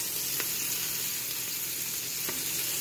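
Sausage sizzles in a hot pan for a gluten-free gumbo-style soup, a steady, moderately quiet frying hiss with a couple of faint clicks from stirring.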